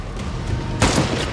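Gunshots from an ambush in The Falcon and the Winter Soldier, a sharp loud burst of cracks about midway followed by a few more close, percussive shots after a quieter stretch.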